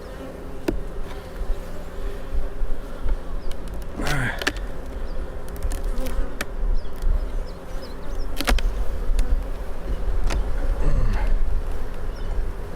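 Honey bees buzz continuously around an open hive during an inspection, a dense close drone with individual bees zipping past the microphone, along with occasional knocks and rustles of handling.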